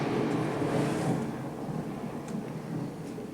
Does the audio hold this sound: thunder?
yes